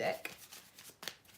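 Tarot cards rustle and slide briefly as one card is pulled from the deck, a few soft, close handling sounds with a voice talking over them.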